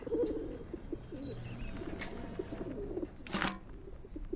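A pigeon cooing in the video game Whateverland, low soft repeated coos running steadily through the scene, with a brief brighter chirp near the end.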